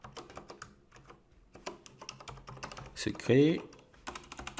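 Close computer keyboard typing while login details are entered: quick, light key clicks in uneven bursts, with someone speaking briefly over them.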